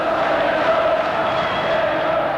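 Football crowd at a Wales international match roaring steadily in support of the Welsh side, a dense, continuous wash of massed voices with no breaks.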